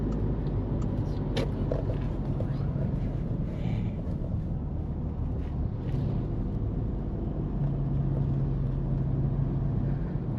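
A car overtaking on a road, heard from inside a moving vehicle driven by an older man: steady, loud rumble of engine and road noise with wind buffeting, continuous for the whole stretch without a distinct pass-by swell, and no talking.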